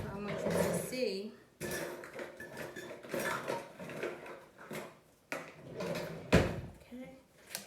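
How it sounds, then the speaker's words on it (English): A kitchen drawer is pulled and cutlery rattles as a spoon is fetched while baking cinnamon bread and apples, with clinks and clatter running continuously under nearby talking. "let me just get another spoon so I want you to see"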